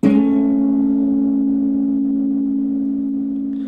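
A single sustained guitar note, hammered on at the 12th fret of the 5th string, ringing clearly and slowly decaying on its own.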